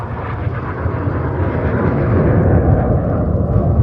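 A Red Arrows jet roars steadily overhead as it flies the twister manoeuvre at an airshow in Prestwick/Ayr, a broad, loud engine rush that grows slightly over a few seconds with no talk.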